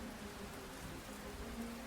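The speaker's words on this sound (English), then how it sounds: "thunder rattles overhead and it begins to rain" Steady rain falls in a tabletop game ambience, a dense even hiss with a faint low rumble of thunder underneath, continuous and without voices.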